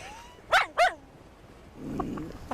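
Two quick, close yelping barks from a puppy, followed by quieter scuffling and faint yips in the background.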